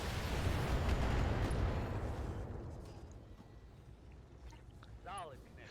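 A missile salvo fired in the video game Battletech: a loud, deep rumbling roar that swells and then fades over a few seconds, leaving a quieter background with a few faint chirps.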